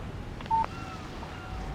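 A short electronic phone alert tone chimes once, a clear steady beep over a low game ambience, signalling a text message on a mobile phone in the video game Alan Wake.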